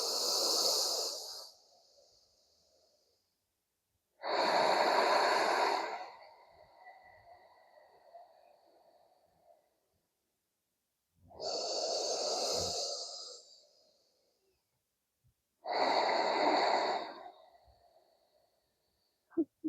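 Slow, deep breaths held through a shoulder and chest opening yoga stretch, four long airy inhales and exhales spaced by silent pauses, close and clear with no talking.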